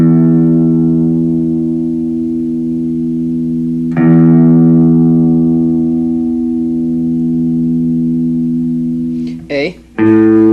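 An electric guitar's low E string rings out for tuning, plucked once, then struck again about four seconds in and left to sustain loud and steady, ending in a brief scrape and a short note.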